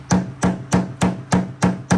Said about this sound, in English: So I took this hammer with the metal head on it and just kind of knocked all that back in.